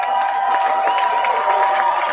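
A college baseball stadium crowd at an Oklahoma versus Michigan game cheers in a steady, dense roar that holds at an even level throughout, with no single voice standing out.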